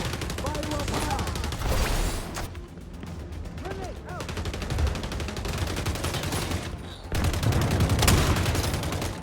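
Gunfire from a video game shooter rattles through the clip in repeated loud bursts and volleys, with brief lulls between the clusters of shots.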